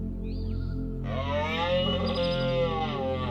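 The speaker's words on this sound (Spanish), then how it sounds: "Cada otoño, los machos rugen fuerte, uno de los sonidos más impresionantes en la naturaleza." A male wild animal calls in an autumn Canadian forest: a brief high whistle comes first, then a long, loud, tonal bellowing call lasting about two seconds, close and alone.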